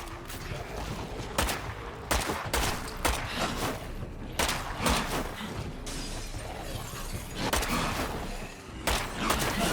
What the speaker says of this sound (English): quit panic shooting